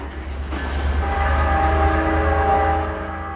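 A train rolls along tracks in an industrial area beside a detention center, with a loud sustained rumble and a tonal horn-like whine over it, steady throughout and fading slightly at the end.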